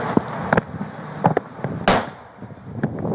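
A flashbang grenade detonates inside a house's mud room during a police SWAT entry, one sharp loud bang standing out among several smaller knocks and thuds close by.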